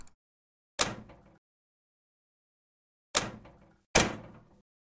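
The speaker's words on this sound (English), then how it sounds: "That almost sounds like you're slamming the door" Door slam effects from an open game art sound pack: three sharp, loud bangs, each followed by a brief rattling tail. The first stands alone and the last two come close together after a pause. No one speaks.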